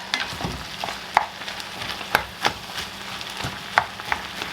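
Onions, hamburger meat and bacon fry in a Dutch oven with a soft sizzle under sharp, irregular scrapes and clinks of stirring against the pot.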